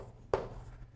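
A single brief scratch of chalk or marker on a board while a kinematics equation is worked out, quiet and close, over a low room hum.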